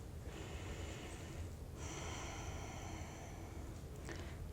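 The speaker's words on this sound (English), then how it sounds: "Take a couple of breaths here at the top." Deep, slow breaths during a yin yoga pose: two long, airy exhalations over a quiet background, close and soft, with no speech.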